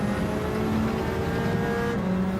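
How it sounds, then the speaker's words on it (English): Racing cars in Gran Turismo 7 drive in a close pack, a steady engine drone that holds the whole time with no break and no voices. "This is some racing up ahead. Look at these cars together."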